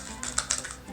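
Scissors snip down through a thin plastic yogurt container, giving a handful of sharp, close crisp clicks and crackles over about a second, with no talking.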